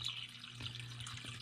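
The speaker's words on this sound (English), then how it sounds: "Drains back in there." Water drains back into a hydroponic reservoir cart while a pump runs, a faint, steady trickle and splash over a low hum.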